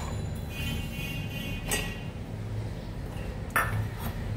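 A metal lid is set onto a cooking pot in a home kitchen, giving a couple of sharp clinks with a bright ring, the loudest near the end, over steady low stove noise.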